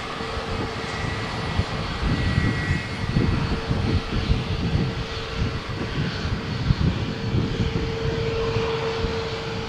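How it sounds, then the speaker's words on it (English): Gulfstream G280 private jet at Malaga Airport on a stormy morning, a steady, loud broadband engine roar with a low rumbling body, sustained throughout as the aircraft passes nearby. "here comes a private jet."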